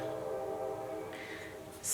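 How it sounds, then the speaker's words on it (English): A distant freight train with a steady low rumble, a faint horn-like tone and a brief high hiss near the end, heard alone and far off. "do you hear that freight train in the distance?"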